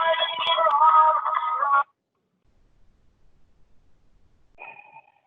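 A mobile phone's notification chime plays a bright tonal burst for nearly two seconds, then cuts to near silence before a shorter, fainter beep sequence sounds near the end.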